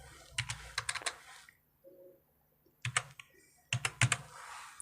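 Keys tapped on a computer keyboard to enter an OTP, coming in quick clusters of close, crisp clicks separated by a short quiet gap.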